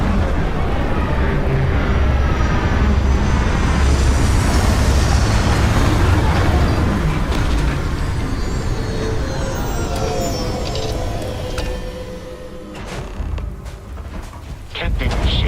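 In Starfield, a spaceship descends to land with a loud, rumbling engine roar and mechanical whine that gradually fades, ending in a few clanks and thuds as it touches down.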